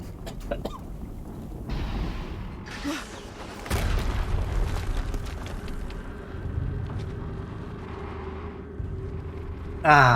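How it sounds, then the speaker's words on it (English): Explosions in the Horizon video game, a deep boom landing mid-way and another sudden blast right at the end, over a rumbling, busy game soundscape. "Another explosion."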